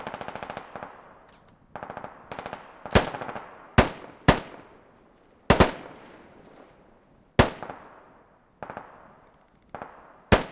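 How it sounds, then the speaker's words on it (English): Assault rifles trade fire in a Squad battle between AK and AR shooters, short rapid bursts alternating with sharp loud single cracks, each trailed by a long echoing decay across open terrain. "Accurate AR fire, trading between AKs and the ARs"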